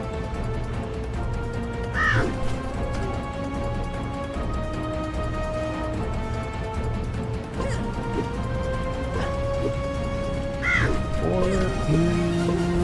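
Crows in the LEGO Universe video game caw as they are scared off, a few loud harsh calls spaced apart over a droning game music bed.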